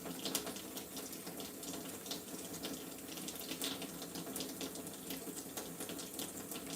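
Running water from a tap splashes steadily over a nitro RC engine during a wash, a continuous broadband spray with small splatters and no talk.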